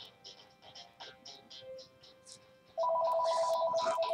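Telephone ringing at home, a steady electronic ring that starts partway through and sounds loud and continuous over faint background chatter.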